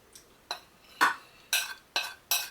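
Garlic and ginger go into a pan for ginger garlic shrimp, giving a series of six short clattering stirs and scrapes of a utensil against the cookware, spaced about half a second apart, close and moderately loud with no talking.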